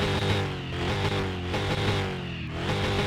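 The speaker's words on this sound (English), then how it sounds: "you've got the mean deep grumble of that supercharger on top of that V8" Supercharged V8 from a street-build Hoonicorn in Car Mechanic Simulator, revving with a loud, deep grumble and a steady rich rumble that swells and dips across a few seconds, with no talk.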